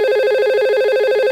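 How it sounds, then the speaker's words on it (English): A telephone extension rings during a call on a company network, a loud continuous warbling ring tone heard close with no other sound. "So you see it's ringing from on this side from 1066."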